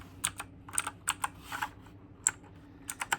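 Keys pressed on an Onn gaming keyboard: a dozen or so crisp, separate clicks at an uneven pace with short gaps, close and fairly quiet, with no talking.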